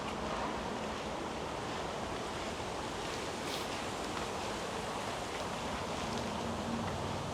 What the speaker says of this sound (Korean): 한국의 동해로 흘러가는 강입니다